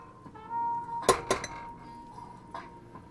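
A ceramic bowl is set down and handled with a couple of sharp clinks, followed by a softer knock, close and fairly quiet.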